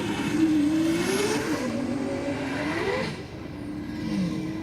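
The Aeroflow drag car at Sydney Dragway roars across the finish line, a loud sustained engine howl whose pitch climbs and bends, then dips and fades briefly before rising again, with no voices.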